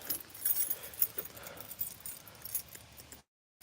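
A bunch of keys jangles and clinks in a hand close by, a busy metallic rattle lasting a few seconds before cutting off, quiet with no talk.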